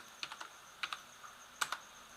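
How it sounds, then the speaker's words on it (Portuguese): Quiet typing on a computer keyboard: three short clusters of crisp keystroke clicks separated by pauses, with no talking. "Maioridade, já está digitando de novo."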